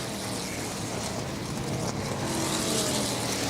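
ARCA race cars roar around Elko Speedway, a loud, sustained engine drone as the field runs nose to tail, with a race commentator talking over the noise.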